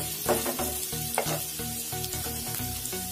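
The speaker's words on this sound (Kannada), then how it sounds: "ಸ್ವಲ್ಪ ಫ್ರೈ ಮಾಡ್ಕೊಳ್ಳಿ ಚೆನ್ನಾಗಿರುತ್ತೆ ಫ್ರೈ ಆದಷ್ಟು ಟೇಸ್ಟ್ ಜಾಸ್ತಿ ಇರುತ್ತೆ" Chicken manchurian sizzles loudly in hot oil while being stirred, a dense continuous frying hiss broken by scraping and clinks of a utensil against the pan.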